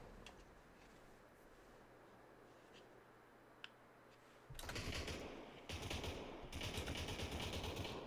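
Gunfire in the VR battle royale game Population: One, a few faint distant shots at first, then bursts of loud, rapid automatic fire close by.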